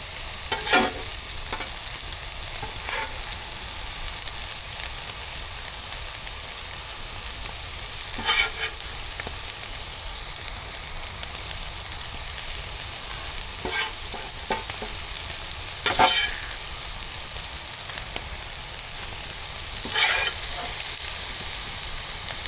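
Onion and bacon sizzle on a hot grill atop burger patties, a steady close frying hiss broken by occasional sharper pops and scraping stirs.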